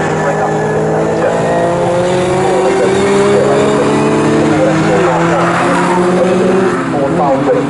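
Group 1 touring race cars, including a Ford Falcon and a Ford Escort, roar past at Snetterton with loud, sustained engine drone and shifting pitch throughout, a commentator talking over the noise.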